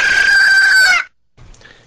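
A rooster crows loudly and up close in one long, strained call, then goes quiet before a few softer clucks as a radio segment jingle.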